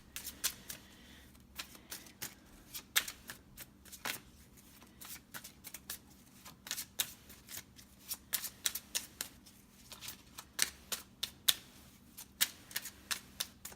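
Tarot cards shuffled for a general reading, a steady run of crisp riffling snaps and soft slaps repeating close up, with no voices over them.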